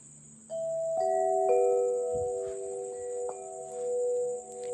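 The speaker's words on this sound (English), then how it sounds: "That is my favorite wind chime." A favourite wind chime rings outdoors with several clear, sustained metallic tones struck one after another and left to ring out, over a faint steady high insect hum.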